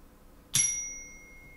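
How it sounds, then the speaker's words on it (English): A single chime strike rung to clear energy, bright and loud, with a sharp onset and long ringing tones that slowly decay in an otherwise quiet space. "my chime can get kind of loud"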